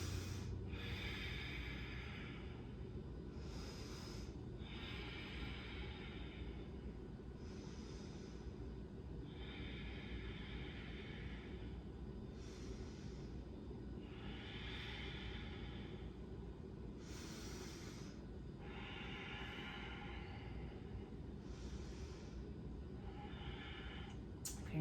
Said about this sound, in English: Let's breathe.